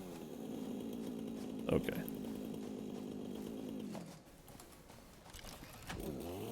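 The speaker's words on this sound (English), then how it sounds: "While we're here, let's chainsaw this one too." A chainsaw in the video game Satisfactory buzzes steadily as it cuts through foliage for about four seconds, then cuts off; a person briefly says a word during the quieter stretch afterward.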